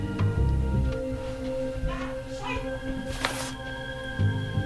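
A cat meows a few times in the Post Mortem video game, fairly faint, heard over steady background music and some talk.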